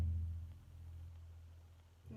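A double bass sounds a single low E string note, a deep sustained tone that slowly fades over about two seconds before a fresh stroke begins right at the end, played alone and fairly quiet.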